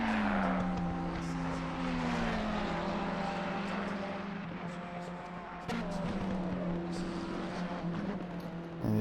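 A Ferrari 488 race car in Assetto Corsa Competizione at Bathurst drones past with a steady engine tone that shifts pitch through gear changes, fairly quiet, with other car noise behind it.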